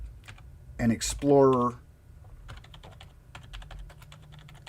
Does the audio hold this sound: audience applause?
no